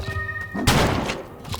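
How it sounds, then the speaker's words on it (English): A shotgun being loaded in the Colt Canyon video game, a single sharp mechanical thunk partway through, close and punchy, amid brief game sounds. "Load that shotgun."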